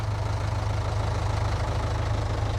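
In the video game Farming Simulator 22, a 60-horsepower tractor engine strains under a 50-metre cultivator, giving a deep, steady, throbbing low drone with a rhythmic knock throughout.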